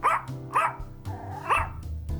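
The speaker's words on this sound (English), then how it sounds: "And Mona, my trusty crime-finding dog" A dog named Mona barking in close, sharp, evenly spaced woofs, about four or five across the stretch, with no voices.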